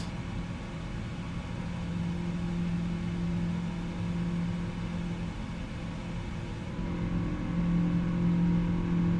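Rolls-Royce jet engines of a PMDG 777-200ER in Microsoft Flight Simulator 2024 during climb, a steady droning rumble with a low hum, constant and moderately loud throughout, no voices.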